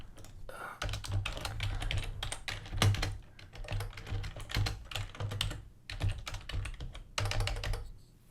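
Fingers type rapidly on a computer keyboard during coding, with dense clusters of close, crisp key clicks broken by short pauses.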